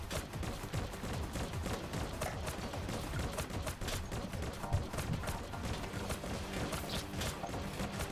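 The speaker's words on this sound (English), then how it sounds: "Stuff's exploding behind us again" Explosions and blaster fire rattle through the shooter game Anstorm in a dense, unbroken barrage, loud and close, with sharp bursts piling on top of each other throughout.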